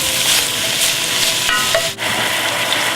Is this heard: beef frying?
yes